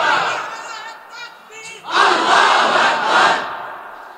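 A large crowd chants the slogan Allahu Akbar in loud, rhythmic unison at a religious gathering, with a first shorter call followed by a bigger, sustained massed shout.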